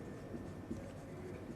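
Writing on a classroom board during a computer science lesson, a faint scratchy scrape with small rhythmic strokes over a steady low room hum, heard close without any talking.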